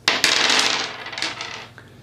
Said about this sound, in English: Basically, you roll these 6 dice.